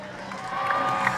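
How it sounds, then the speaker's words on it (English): A crowd cheers at the X Games 2000, a brief, steady wash of distant shouting and cheering with no clear voice on top. "Simon Tabron's wife Pippa and his mother Denise in the crowd cheering him on"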